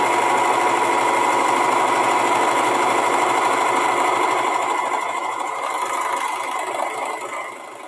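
A Janome serger finishing a fabric edge runs at a steady high-speed whir with a fast mechanical chatter. It is loud and close, eases off slightly near the end, and no one talks.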